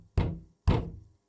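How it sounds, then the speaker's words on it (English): Two heavy knocks on a closed door in Disco Elysium, each a loud, solid thud spaced about half a second apart, alone with no talk. "Knock again."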